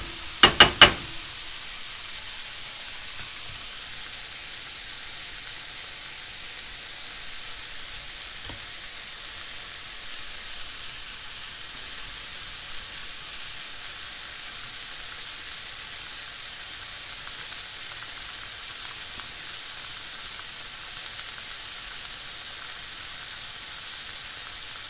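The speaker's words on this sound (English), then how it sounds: "I'm going to gently saute them over sort of medium heat or medium-low heat and develop the browning on these guys" Amanita velosa mushrooms sautéing in a pan over medium to medium-low heat, a steady, soft sizzle that runs throughout after a few brief clanks at the start, with no voices.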